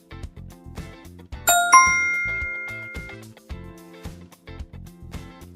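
Several phone notification chimes ring out together in a quiet room, a bright cluster of ding tones with a lingering ring, over soft tapping and background movement.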